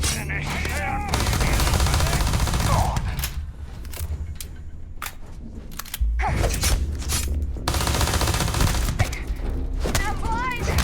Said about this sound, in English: Cover me! Covering fire!